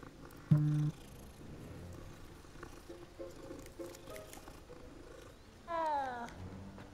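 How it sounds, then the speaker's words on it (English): A cat in Hogwarts Legacy gives a short low purr-like rumble early on, followed later by a brief rising mewing cry, heard close over quiet game ambience and soft background sounds. "Ooh, cat."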